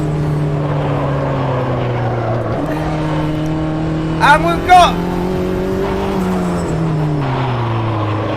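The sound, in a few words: race cars on track in a sim racing video game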